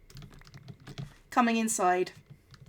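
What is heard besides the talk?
typing on a computer keyboard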